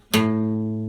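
A single guitar note from a song intro, picked at the 5th fret of the 6th string, rings out alone, close and clear, with a bright attack and long even sustain.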